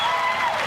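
Applause from the crowd at a beach volleyball semifinal of the Québec Open, a steady burst of clapping filling the whole short moment at a lively level.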